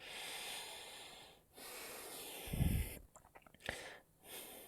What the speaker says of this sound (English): taking deep breaths here